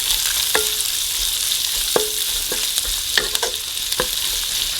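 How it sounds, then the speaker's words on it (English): Minced garlic fries with pork belly in hot fat, a loud close sizzle with repeated scraping knocks of a utensil stirring the pan. "I'm going to add in all of the minced garlic and cook this for about 2 to 3 more minutes"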